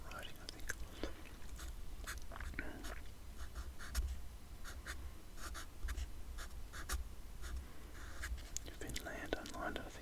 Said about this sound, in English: I'll have to do this in fairly small writing, I think